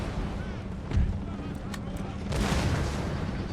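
Artillery and musket fire from Empire: Total War rumble through a short stretch, with a few dull booms and sharp cracks over a constant roar of battle noise, heavier toward the end.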